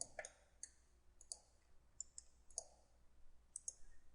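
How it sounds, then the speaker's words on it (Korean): Computer mouse clicks in a CAD modeling session, a quiet scattering of sharp, close clicks, some single and some in quick pairs, over a faint background hiss. "라이트 클릭"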